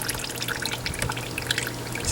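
Engine oil draining from a Toro Z-Master zero-turn mower, a steady trickle with scattered drips close by.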